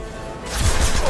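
An impact shot fired in the Mass Effect video game: a single loud, broad crashing burst that swells in about halfway through and holds to the end, over a low rumbling bed.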